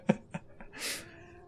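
A tabby cat in the video game Sorcery 4 gives two short, fairly loud meows in quick succession, followed by a fainter third cry and then a brief hissing or rustling burst.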